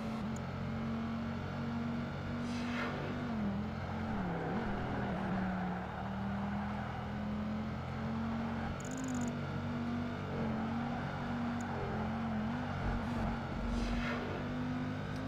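Race car engines in Project Gotham Racing 2, with a Noble, Dodge, Porsche and Ferrari on track: a steady, loud droning engine note that holds and wavers as cars race, continuous throughout with a few brief higher blips.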